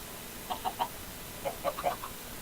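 A chicken in the Minecraft Stoneblock modpack clucks in two short bursts of three or four clucks each, up close and clear over faint background hiss.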